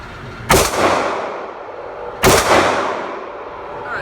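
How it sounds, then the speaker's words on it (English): Two sharp, loud Sig P226 TAC-OPS pistol shots fired about two seconds apart, each with a long reverberant decay, at an outdoor range with no talking. "So I just got through shooting 60 rounds to the Sig P226 TAC Ops"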